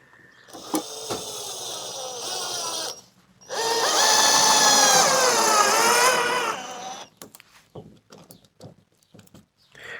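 Electric drill running in two sustained bursts of a few seconds each with a brief pause between, whining loud and close, followed by faint clicks and handling noises while working on a Mirror dinghy being converted to a motor boat.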